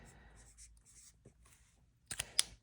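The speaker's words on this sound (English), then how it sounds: "let me actually write that on here" A pen scratches briefly on paper in a binder, soft and close, with a few short strokes followed by a couple of sharper taps.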